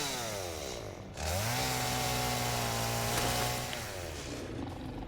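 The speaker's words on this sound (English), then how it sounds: "Chainsaw to the rescue!" A chainsaw in the video game Satisfactory idles, then revs up into a loud, steady drone that holds for a few seconds before winding back down.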